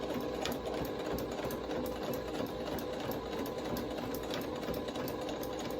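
A sewing machine stitches a fabric face mask with a continuous, even, rapid mechanical rattle, heard close up and fairly quiet, with no talking.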